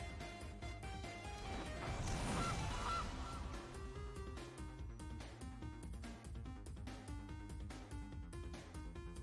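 The Gilded Goose card in MTG Arena gives a goose honk effect, a short squawk near the start over steady game music and clinking interface sounds, with no speech.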